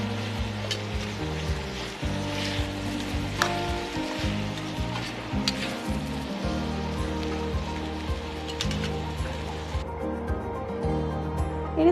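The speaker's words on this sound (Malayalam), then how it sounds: "ഇതിലേക്ക് ഇഞ്ചി വെളുത്തുള്ളി പേസ്റ്റും കൂടി ഇട്ട് കൊടുത്ത് നന്നായിട്ട് ഇളക്കിയെടുക്കുക" Ginger garlic paste sizzles in a pan for mutton curry as it is stirred, a continuous hiss and crackle over low rumbling tones, with occasional scraping of the spoon and no talking.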